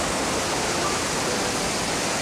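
Broadband wave wash rolls steadily onto a sandy beach on Fraser Island, a continuous surf roar of even loudness throughout with no voices.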